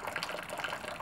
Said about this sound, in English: this is just cold water that's pumping in through this tube and swirls through, and then it comes right back out this tube